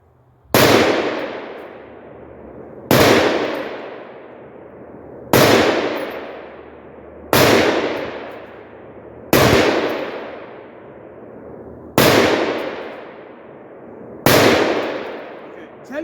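Seven loud, sharp rifle shots from a Palmetto PA-10 Gen3 AR-10 fired outdoors at a steady pace about two seconds apart, each crack followed by a long echoing decay.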